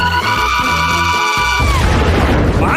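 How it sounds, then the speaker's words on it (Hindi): A cartoon candy bomb exploding, a loud low boom cutting off a sustained electronic tone and followed by a rumbling crash. "ऐसा लगता है कि ये कैंडी बम था।"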